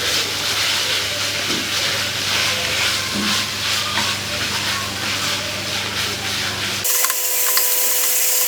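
Keema sizzles steadily in a hot pan with ginger and garlic, a loud, continuous frying hiss with occasional stirring scrapes before the sound cuts to a quieter background.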